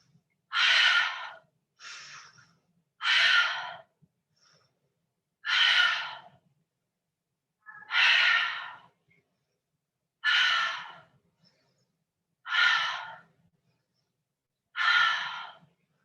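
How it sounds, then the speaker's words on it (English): Rhythmic yoga breathing, eight forceful breaths evenly spaced about two seconds apart, each a sharp airy whoosh through the nose or mouth, close and clear with silence between them. "exhale. Inhale."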